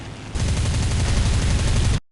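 Aircraft machine guns in War Thunder fire a loud, rapid burst that kicks in sharply after a brief quieter moment, hammering continuously for nearly two seconds before cutting off abruptly.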